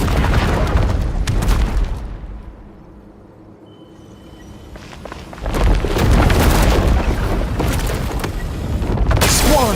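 Stone wall blasted apart in Genshin Impact: a heavy booming explosion with crumbling debris, a quieter lull, then a second loud burst of rumbling blasts and clatter, close and powerful with no talk.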